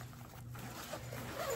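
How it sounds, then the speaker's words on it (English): A backpack zipper on a packable sling bag is drawn along its track in one short, quiet, scratchy pull, close and alone. "They're not the best zippers in the world, but you would get what you pay for."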